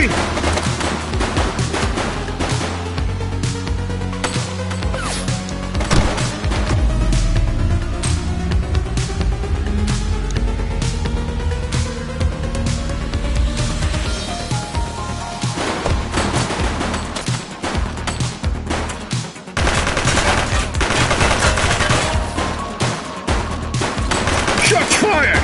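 Prolonged, loud firefight in the police game The Precinct: rapid automatic bursts and overlapping shots pound on continuously for about twenty-five seconds, with a rising siren-like whine and dense background noise, no clear talk.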